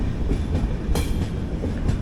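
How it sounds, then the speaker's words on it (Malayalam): A 22114 Kochuveli–Mumbai LTT Superfast Express pulls into Thalassery station, giving a steady loud rumble of wheels and carriages with soft clickety-clack beats and a brief brighter screech near the middle. "അങ്ങനെ ജസ്റ്റ് തലശ്ശേരി സ്റ്റേഷനിലോട്ട് കയറുകയാണ്."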